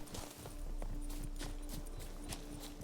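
Boar footsteps from The Witcher 3 trudge along in repeated soft thuds and scuffs at an uneven walking pace, moderately close over a faint steady ambient drone, with no voices.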